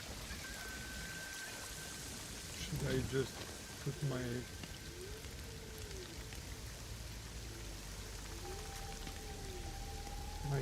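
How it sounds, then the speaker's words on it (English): A waterfall in the video game Assassin's Creed Shadows pours in a steady hiss with a low rush beneath, heard throughout while a person speaks briefly. "So okay, so we have the waterfall here."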